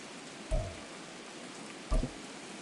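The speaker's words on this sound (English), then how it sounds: "The rain set to continue as we are underway in the second half" Steady, even hiss of rain falling over a Madden 24 football game, close and constant, broken by two short, dull low thumps.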